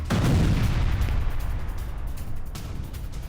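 Heavy blasts from a Russian Iskander missile strike in the Russia–Ukraine war boom out, a loud low rumble opening with a sharp burst, then a second thud rolling in as the roar decays.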